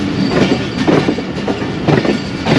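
The Jaffar Express rolls into Kharian Cantt railway station with loud, close, continuous rumbling and rhythmic clickety-clack of wheels over rail joints, with a faint wheel squeal.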